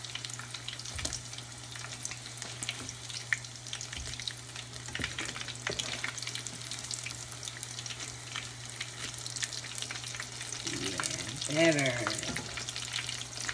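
Corn fritters frying in hot oil in a home kitchen, a steady background crackle and sizzle with scattered pops, growing a little busier near the end, with a brief spoken word.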